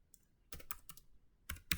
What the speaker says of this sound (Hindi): आप इधर इसको कोई भी मैसेज टाइप कर सकते हैं